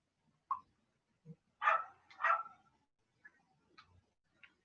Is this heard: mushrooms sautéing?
no